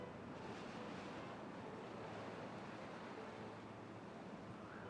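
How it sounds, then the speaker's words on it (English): Flowing water in the video game Timberborn: a continuous, soft, even rushing wash with no breaks and no voices. "So much water flow going through here."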